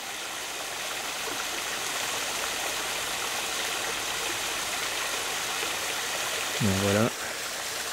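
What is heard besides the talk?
mountain stream water flowing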